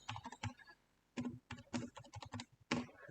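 Someone typing an ID card number on a computer keyboard: close, crisp key clicks in quick bursts of several strokes, separated by short pauses, with no one talking.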